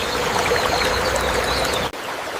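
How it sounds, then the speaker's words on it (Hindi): Water runs steadily along a freshly dug drain channel beside a rough forest road, a close, even rushing flow that cuts off abruptly near the end. "पानी सही तरफ जा रहा है।"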